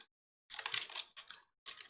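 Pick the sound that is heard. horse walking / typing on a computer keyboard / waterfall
typing on a computer keyboard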